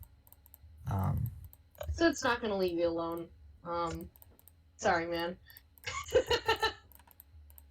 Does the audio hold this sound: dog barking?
no